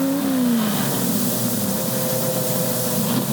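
A drag racing car at the 1968 U.S. Nationals revs hard under acceleration, a loud, sustained engine roar with a rising then dropping whine early on, heard at close range without speech.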